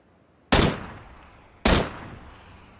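Two single loud gunshots in the video game PUBG, fired at vehicles about a second apart, each a sharp crack followed by a decaying echo against a quiet background.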